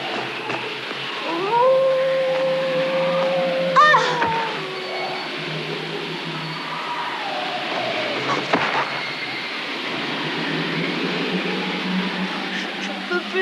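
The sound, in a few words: wolf howling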